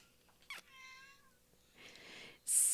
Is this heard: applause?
no